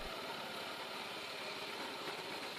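Student-built caterpillar tracked vehicle with a compact 15-horsepower single-cylinder 4-stroke engine, running as a steady, continuous low engine drone with no pauses.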